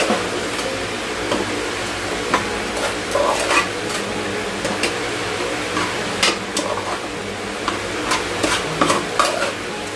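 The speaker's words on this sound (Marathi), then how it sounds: "आणि पुन्हा एकदा सर्व मिश्रण मिक्स करूया." A mixture stirred in a pan just after cardamom powder goes in, scraping and clinking steadily with soft sizzling throughout, close and fairly loud.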